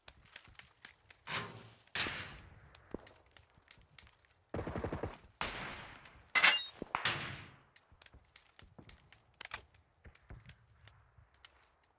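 Gunfire in the battle royale game PUBG during a solo third-person match, with repeated sharp bursts and single shots at varying distances, some loud and close, separated by quieter gaps and light thuds.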